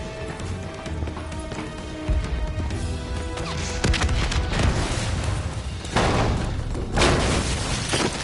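Bombing in the Call of Duty: Black Ops 3 campaign at a refinery, heard as a dense, continuous roar of crashing debris and heavy booms, with repeated loud impacts and rumbling bursts swelling over the whole stretch.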